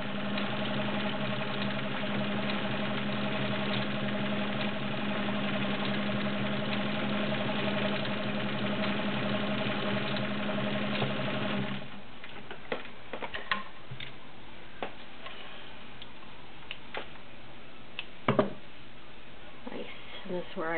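A heavy-duty Kenmore 1750 sewing machine running a stretch stitch, a steady mechanical hum with rapid ticking that stops partway, followed by quieter handling clicks and a sharp tap near the end.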